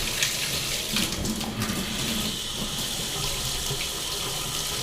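Water gushes from a tub shower faucet in a steady, close, full rush of splashing flow that holds an even level from start to end, with no voices.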